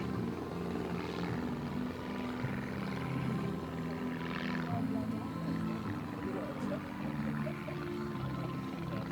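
A display aircraft, co-owned vintage plane at a Weston Park air show, drones past with a steady engine roar that swells and fades over the crowd, loud and sustained with faint background voices.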